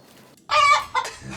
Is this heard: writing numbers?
no